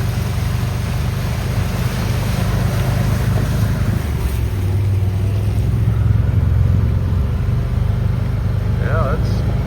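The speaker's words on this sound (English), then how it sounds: "Here's the water coming from our detainage ponds on the north side of the property. Water running down here." Floodwater after heavy rain running out of a breached detention pond, heard as a loud, continuous rushing wash of water mixed with wind noise, with someone talking over it.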